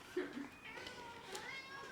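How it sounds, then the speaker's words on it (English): A displeased house cat meows near dinner time, with a few short plaintive meows rising over quiet background sound, fairly faint, and a voice talking at points. "I'm hearing the cat. The cat's not happy."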